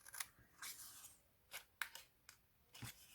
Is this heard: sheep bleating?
no